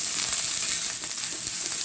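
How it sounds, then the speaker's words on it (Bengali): Pointed gourd and ridge gourd fry in a pan with a steady, close sizzle and hiss, broken by occasional soft stirring scrapes. "এটা আমি একটু ভালো করে ভেজে নেব।"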